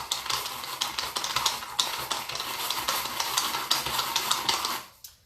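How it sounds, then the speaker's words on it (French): A small manual hand chopper with two blades works a fig, onion and goat cheese mixture on a tabletop, giving a fast, steady run of close clattering chops that stops abruptly near the end. "ça c'est un petit hachoir manuel qui est génial"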